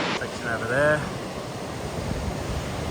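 Surf breaking along a fishing beach, a steady broadband wash of waves and wind that runs beneath a voice speaking briefly near the start and then continues alone.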